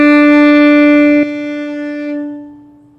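A single clean bowed note on the D string of a violin, steady and close for over a second, then the bow lifts and the note rings and fades away.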